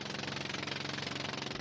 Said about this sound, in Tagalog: pinaandar ng mga Chino ang makina ng sampan para tumakas